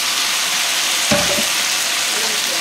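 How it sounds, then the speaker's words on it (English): Rice stick noodles hit hot cooking oil in a pan for a beef chow foon stir fry, giving a steady broadband sizzle with a brief louder burst partway through, close and continuous, no voices. "So next, I'm going to put the rice stick noodles in there."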